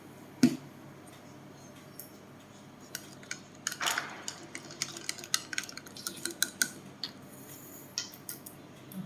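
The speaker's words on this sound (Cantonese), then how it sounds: "攪勻佢。" A spoon clinks and scrapes against a container while stirring salt into water, producing a string of small irregular taps and rattles, close and fairly quiet.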